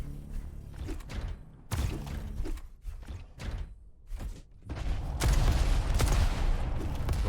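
Rockets firing in a fast arena shooter duel, several sharp launches and bangs in quick succession with a denser, louder burst of blasts toward the end.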